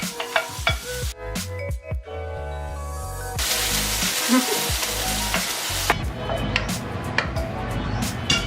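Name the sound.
vegetables sautéing in a frying pan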